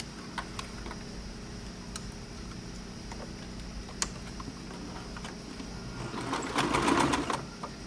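Sewing machine stitching along the seam of a shirt collar, a steady close mechanical run with small ticks, swelling into a louder burst of stitching near the end.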